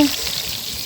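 Chicken pieces frying in hot oil in a pan, a steady broadband sizzle that holds close and fairly loud throughout, with a brief soft thump at the start.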